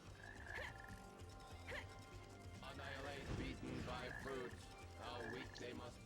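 Frogs in the Sonic Heroes video game give short croaks that repeat at intervals. Game music and other effects play around them, and a voice talks over part of the stretch.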